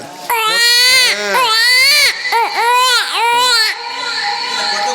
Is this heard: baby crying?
yes